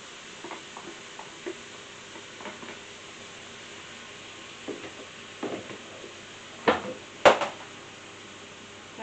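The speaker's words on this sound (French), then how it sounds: "On ajoute également les tomates." Tomatoes tipped into a hot pan, a steady low sizzle running throughout with scattered stirring scrapes and a couple of louder clatters near the end, no voices.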